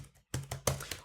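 Quick, uneven keystrokes on a computer keyboard, a short run of crisp close taps with a brief pause near the start.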